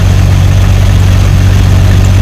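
A 2000 Jeep TJ idles steadily up close with a loud, even low rumble and slight vibration throughout, alone with no voices.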